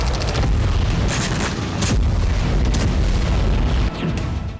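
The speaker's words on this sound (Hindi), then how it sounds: "टैंक आर्टिलरी से हमले की एक्सरसाइज कर रहे हैं" Tank artillery fire booms through a Belarusian military exercise, a dense, loud rumble of heavy blasts and bursts layered over one another with almost no pause.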